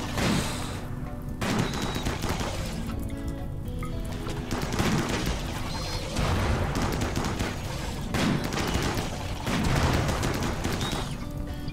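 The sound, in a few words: gunfire in the video game Rimworld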